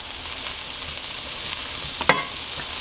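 Vegetables sizzle and fry in a pan as they caramelize, a steady close hiss with a few brief sharper pops and crackles.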